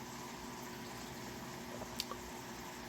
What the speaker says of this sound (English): The water goes in.